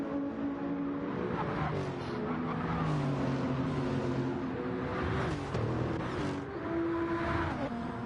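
Race cars in a sim-racing GT1 race at the Brazil round brake for turn 1, engines whining and shifting down loudly in a continuous pack, with commentators talking over the engine noise.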